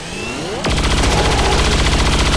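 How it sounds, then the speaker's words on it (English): Gunfire in the video game XCOM, aimed at an Andromedon: a sudden loud burst of shots begins after a quieter moment and continues as a dense, sustained roar. "And yeah, he's going to fire at that Andromedon"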